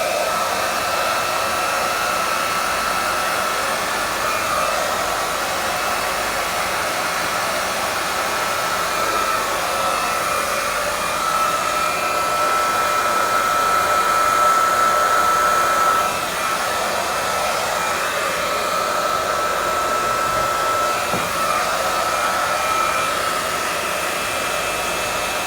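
A hair dryer blows steadily and loudly for the whole stretch while hair is straightened with a brush into a sleek blow-dried look, the airflow roar holding an even tone with slight swells and no talk.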